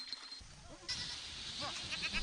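Goats at the Namsan livestock farm in North Pyongan Province give several wavering bleats, some overlapping, heard faintly at a moderate distance over steady outdoor background noise.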